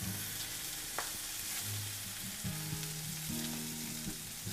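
Pork tenderloin sears in a little olive oil in a pan, a steady close crackling sizzle with occasional pops and faint utensil movement, no voices over it.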